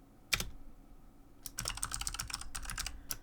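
Keys tapped on a computer keyboard: one sharp click, a pause, then a quick burst of rapid close typing, fairly quiet and alone.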